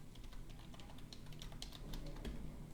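Quick, steady clatter of keys being typed on a computer keyboard, close and fairly quiet, continuous light tapping with no voices.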